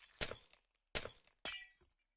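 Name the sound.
glass block being broken in Minecraft video game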